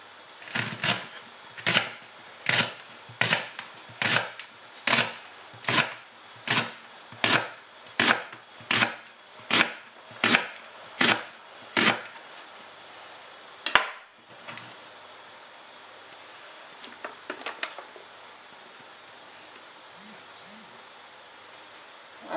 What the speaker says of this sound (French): On va aussi émincer notre poireau.